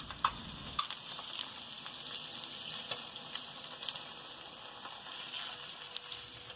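A salted egg frying in a pan gives a faint, steady sizzle with soft crackles throughout, no voices.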